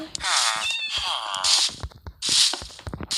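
Minecraft cat meowing several times in quick succession, clear and close, with short gaps between the calls.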